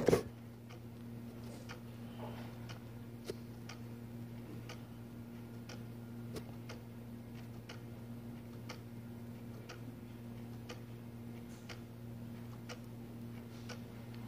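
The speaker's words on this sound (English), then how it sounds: "Also, you can hear the ticks from the other two." Several wall clocks tick steadily, including one very large hanging clock, their sharp ticks spaced evenly and fairly close over a constant low hum, with no talking.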